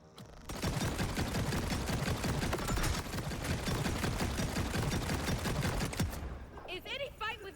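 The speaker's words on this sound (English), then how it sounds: "Who's shooting at me?" Enemy gunfire in Borderlands 4 rattles in dense, rapid volleys for about six seconds, loud and close, stopping abruptly, with a voice briefly audible at the end.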